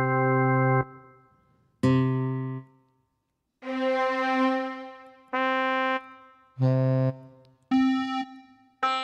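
Electronic keyboard playing the same note C several times in different timbres, starting with piano, each sustained tone about a second long with short gaps, clear and close with no talking.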